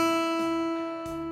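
Open high E string on a guitar rings out as a single sustained E note, struck repeatedly with a few re-plucks, clear and close with no talking.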